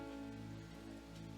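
Rain patters steadily and evenly on a surface, a short unbroken stretch with a low hum running underneath.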